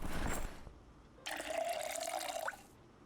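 In Project Zomboid, water runs steadily into a container for about a second and a half, a close, bright filling rush that stops abruptly, following a short earlier splash; no one speaks.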